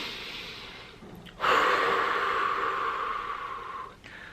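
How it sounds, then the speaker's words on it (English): A single deep breath drawn in sharply after a quiet moment, then a long, audible steady exhale that tapers off, close and alone with no talking. "I want you to take a deep breath."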